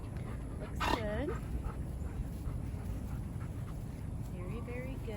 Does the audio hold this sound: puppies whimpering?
yes